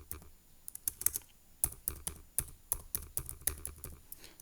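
Rapid irregular keystrokes on a computer keyboard while entering Linux commands in a terminal, a steady run of close, crisp clicks with short pauses, no talking.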